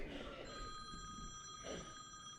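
A mobile phone rings with a steady electronic ringtone across a room while a presenter gives a talk, its tone running alongside faint background murmur.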